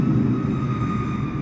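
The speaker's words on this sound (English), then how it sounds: "check out these airliners flying over" AI airliners passing overhead in Microsoft Flight Simulator 2024, a steady broad jet-engine roar that holds at an even, fairly loud level without voices.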